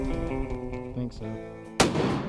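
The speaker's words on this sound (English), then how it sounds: "Keith breaks out his new Hart rifle and takes a couple of shots to make sure it's still on" A single sharp rifle shot from a new Hart rifle at a ranch cracks out loud and close. It follows a stretch of steady tonal music and leaves a broad, lingering decay.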